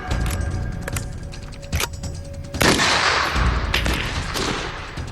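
Heckler & Koch G3 rifle gunfire at Fürstenfeldbruck airfield in a documentary reconstruction: scattered sharp shots and short bursts over a rumbling background, with a louder, sustained volley partway through.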